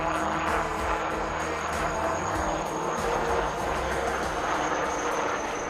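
HAL Light Utility Helicopter flying a display at the Aero India 2025 air show, heard as a steady, dense engine and rotor roar with a faint rhythmic pulsing, constant in level throughout.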